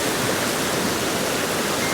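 Steady, full rush of cold mountain stream water tumbling through a ravine in the Pennsylvania mountains, close and unbroken, with no voices.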